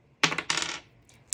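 A die is rolled for a cash savings challenge, landing in a quick close clatter of hard bounces that fades out, followed by one more short rattle.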